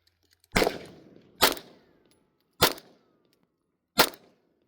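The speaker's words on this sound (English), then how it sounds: "this guy shooting next to me, he just handed me his Canik 9mm" Four sharp, loud shots from a Canik 9mm pistol at an outdoor shooting range, spaced about a second apart, each cracking hard and then trailing off in a short echo, with no talking.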